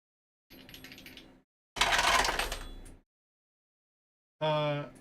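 Dice are rolled during a tabletop game session in three separate bursts of hard clattering rattles, each lasting about a second, close by and with no talking.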